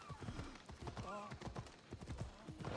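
Horse hooves clip-clop steadily as the horse moves in Assassin's Creed Odyssey, a rhythmic run of soft thuds beneath continuous game ambience, with a voice speaking over it in the middle.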